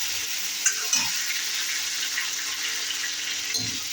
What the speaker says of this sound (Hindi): ये देखिए, अब डाल दिया है टमाटर।